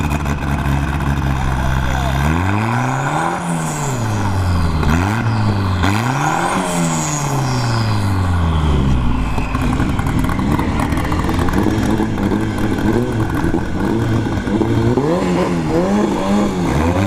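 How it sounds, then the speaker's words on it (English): A Honda Civic launches down a drag strip at a test-and-tune session, its engine revving hard through rising and falling gear sweeps before settling into a loud, sustained roar with another engine droning nearby. "The Civic, so the Civic dumped his clutch there"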